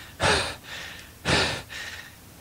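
Voice imitating a wounded character panting, two heavy breathy exhalations each followed by a softer intake, close and clear, with no other sound.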